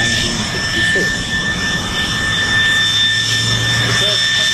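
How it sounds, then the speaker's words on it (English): A de Havilland Vampire jet fighter flies past at the Coventry air show, its engine a steady, loud roar with a rising and falling whine, while people talk in the crowd beneath it. "It was the second jet fighter to enter RAF service after the Gloucester Meteor"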